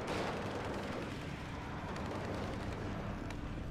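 M113 armored personnel carrier firing its weapon in the Cold War strategy game WARNO, a dense continuous barrage of blasts and rumbling battlefield noise lasting throughout, loud and steady with no talk.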